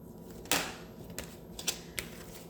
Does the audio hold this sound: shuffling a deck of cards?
yes